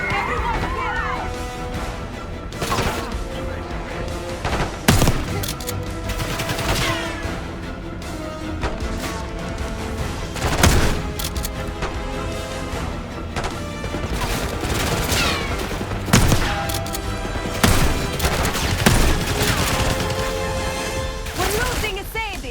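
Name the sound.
gunfire from enemies in the video game Black Ops 6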